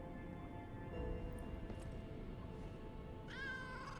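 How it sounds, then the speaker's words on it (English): A cat meows when petted in the video game Lies of P, a single clear, drawn-out meow arriving near the end over a steady low background hum and game ambience. "Let's try petting the cat this time?"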